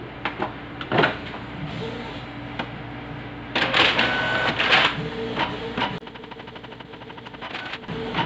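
Canon TS207 inkjet printer printing, mechanical whirring and feeding with clicks, a louder grinding burst midway, then rapid rhythmic carriage ticking, close and alone.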